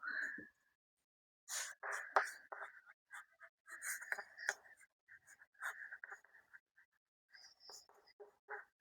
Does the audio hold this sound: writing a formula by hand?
yes